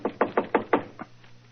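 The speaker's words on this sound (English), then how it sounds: "So, just to please you, I will knock on the door." Five evenly spaced knuckle raps on a shop door, followed by a softer sixth, close and crisp with a low room hum afterward.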